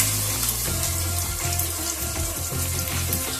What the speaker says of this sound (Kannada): 1/4 kg ಅಷ್ಟು ಅಂದರೆ 250 ಗ್ರಾಮ್ ಅಷ್ಟು ಸಣ್ಣಗೆ ಹಚ್ಚಿರ್ತಕ್ಕಂಥ ಈರುಳ್ಳಿಯನ್ನು ಹಾಕೊಳ್ತೇನೆ